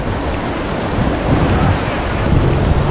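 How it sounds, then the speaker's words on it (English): Strong storm wind roars and buffets steadily around a parked van during a UK storm, a loud broadband rush with gusty swells throughout and no talk. "the wind's blowing that way"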